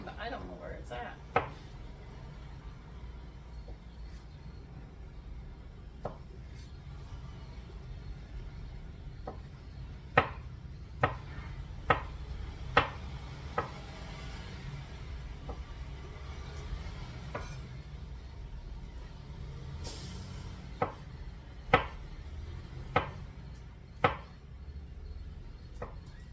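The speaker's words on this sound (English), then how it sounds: "So we're getting all this chopped up so we don't have to worry about it later." Knife chopping mushroom barley soup ingredients on a board, sparse sharp taps scattered over a low kitchen hum, some in quick clusters, quiet and close, with faint voices in the background.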